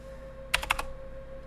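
A short burst of a few sharp keystrokes on a computer keyboard, close and crisp, over a steady low electrical hum.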